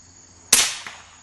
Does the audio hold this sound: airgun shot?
yes